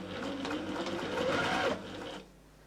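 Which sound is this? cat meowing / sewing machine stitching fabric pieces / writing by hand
sewing machine stitching fabric pieces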